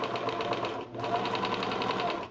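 A sewing machine set to zero stitch length runs steadily with a fast, even needle clatter and motor hum, stopping very briefly once before carrying on, close and with no talking.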